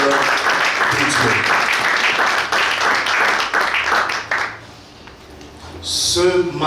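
A church congregation applauds before the Bible reading, with steady, dense clapping that lasts several seconds and then fades as a voice comes in over it.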